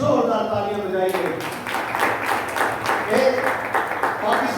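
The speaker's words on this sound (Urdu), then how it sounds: "یسوع نام کے لیے زوردار تالیاں بجائیے۔" A church congregation at a Christmas service breaks into applause: a dense, loud wash of clapping fills the room just after a speaking voice, which carries on faintly beneath it.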